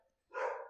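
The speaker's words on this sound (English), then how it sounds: "The dogs are making an appearance." A single dog gives one short, loud bark close by, the burst trailing off quickly after a brief silent lead-in, with no talking.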